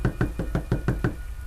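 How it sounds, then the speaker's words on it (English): Fast, constant knocking on a front door: seven quick, evenly spaced raps, close and fairly loud, followed by a brief quiet tail. "It was like a really fast and constant knock."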